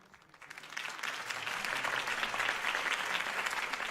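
A crowd applauds a candidate's campaign speech in the video game Batman: The Telltale Series, clapping swelling quickly and holding as a dense, steady roar of hands.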